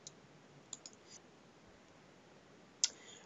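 A computer mouse clicks as an optician's insurance-claim module is navigated: a pair of soft, close clicks early on, a few fainter ones around one second, then one sharper click near the end, all alone over quiet room hiss.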